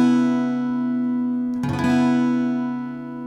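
Acoustic guitar strummed once across all six strings with the A string muted, a single bright attack that rings on as a sustained chord and slowly fades, alone and close.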